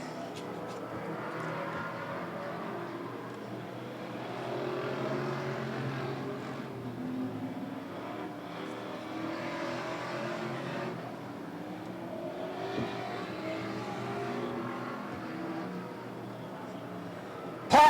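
Pro V8 Enduro full-fendered race cars running at Hudson, a steady broad engine roar from a pack of cars that swells and fades as they pass, with crowd and track noise mixed in.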